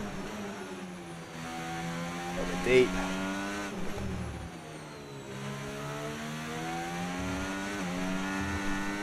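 A Caterham Formula 1 car powered by a Renault engine in the F1 25 video game, whining at high revs with gear shifts and rising and falling pitch as it accelerates, while a commentator talks over the engine.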